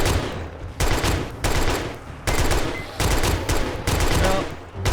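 Gunfire in the 7 Days to Die survival game during a wasteland horde night: loud, close bursts of rapid automatic fire in several long strings separated by brief gaps.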